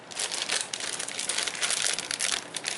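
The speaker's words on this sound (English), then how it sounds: "So I'm just going to snip a little piece off on the bottom here." A stapled plastic package is handled and snipped open at the bottom, giving continuous close crinkling and rustling for a few seconds.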